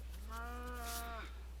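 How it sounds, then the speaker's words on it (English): A single drawn-out moo from a full-grown cow in a video game, clear and close over a steady low background hum. "Oh, looks like we got a full-grown cow, and he's not going up through the system."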